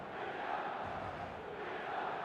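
A stadium crowd on match day in an eFootball game, heard as a faint, steady wash of massed cheering and chanting with no breaks.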